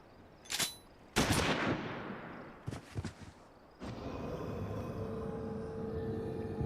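Gunfire in the Final Fantasy XIV video game fight, a few sharp bursts of shots and a longer volley, followed by a steady lower rumble of battle ambience.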